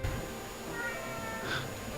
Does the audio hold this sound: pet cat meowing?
yes